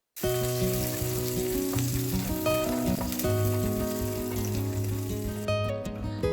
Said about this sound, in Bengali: এদিকে আমার চিকেনগুলো ফ্রাই হয়ে গেছে।